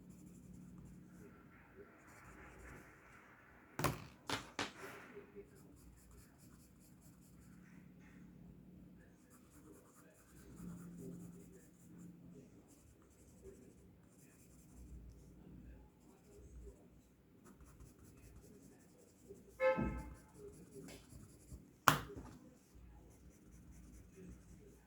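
A pencil scratches softly on paper, hatching and shading a tree drawing in quiet, repeated strokes, with a few sharp taps and a soft voice speaking now and then.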